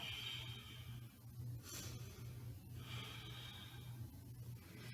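Slow, faint breaths drawn in and pushed out through the nose during a yoga forearm plank, soft snort-like exhales repeating quietly over a low background hum.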